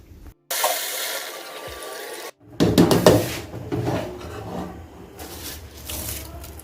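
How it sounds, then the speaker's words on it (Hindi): Mutton stock (yakhni) for a white mutton roast yakhni pulao is poured into a cooking pot: a steady rushing pour, a brief gap, then a louder splashing gush that settles into softer sloshing and bubbling. "अब हम गोश्त वाली यखनी ऐड कर देंगे।"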